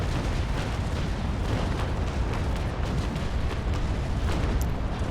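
A broadside of cannons in the naval combat game Naval Action booms in a dense, continuous roll of overlapping blasts, loud and sustained throughout with no voices.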